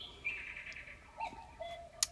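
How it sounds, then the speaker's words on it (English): A pet bird calls indoors in a quiet room, a few short separate chirps and whistles, faint and spaced apart, with a sharp click near the end. "Don't mind the bird."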